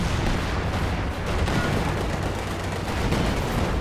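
Dense, continuous artillery and gunfire from the battle game Company of Heroes 2 roar loud and close, with overlapping shots and booms and no pause.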